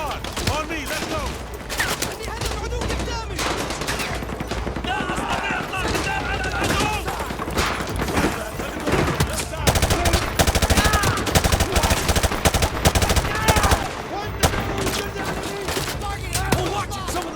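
Heavy gunfire rattles through a Call of Duty Modern Warfare 2 Remastered battle at a school, dense overlapping automatic bursts and single shots going on continuously, with voices talking over the combat.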